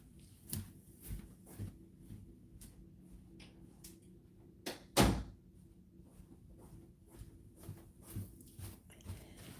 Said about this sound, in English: Let me close my door so no one comes in.